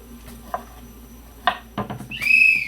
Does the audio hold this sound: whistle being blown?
yes